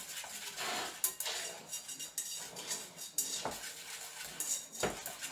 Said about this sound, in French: Un petit coup d'abord de cuillère magique. Pour que le cacao, il soit bien à l'intérieur.